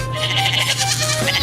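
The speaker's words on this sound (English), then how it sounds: "This is someone else's goat" A goat bleats loudly and close, a single drawn-out wavering cry over a steady low hum, with no talking.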